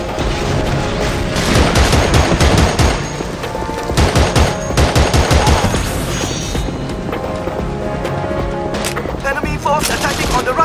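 Heavy automatic gunfire in Battlefield 2: Modern Combat on PS2, loud rattling bursts of rapid shots in clusters with brief lulls and scattered booms, radio-style voices talking in places.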